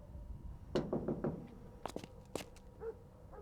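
Several quick knocks on a house door in a drama scene, a burst of about four raps followed by a few sharper, louder ones, fairly close, with faint background rustle and no talk.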